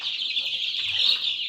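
Young chickens kept in a cage chirp and cluck in a continuous, high-pitched chorus, close by and fairly loud, with no pauses.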